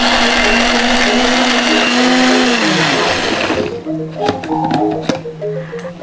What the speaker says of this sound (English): Blend it smooth